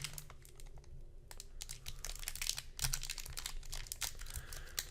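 A 1st edition Jungle Pokemon booster pack being torn open: close, crinkly foil crackling and ripping in quick irregular bursts, fairly quiet with no talk.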